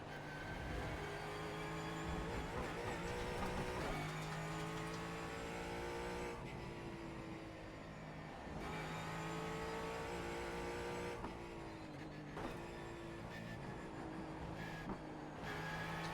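A Ford Mustang GT4 in the iRacing racing game drones steadily from inside the car, its engine rising and falling in pitch through gear changes and throttle lifts, with no talking.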